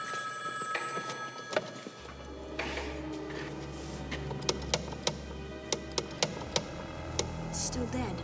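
A telephone rings in a quiet indoor scene, a bright bell-like ring followed by a string of sharp ticks and clicks, close and fairly loud, with a low hum entering partway through.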